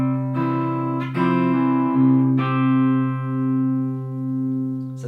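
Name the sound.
guitar bass note picked with fingers, pinky on 3rd fret E string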